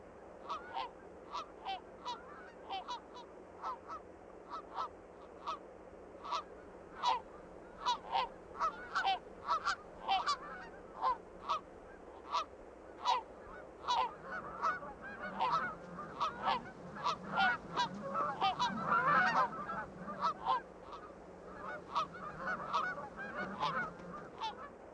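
Geese in the Alaska wilderness honk repeatedly in short, sharp calls that grow denser and more overlapping toward the end, carried over a quiet outdoor background.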